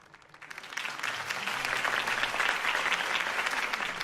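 Applause in a video game swells from quiet to a full, dense clapping of many hands and holds steady at a moderate distance.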